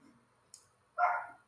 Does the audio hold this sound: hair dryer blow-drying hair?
no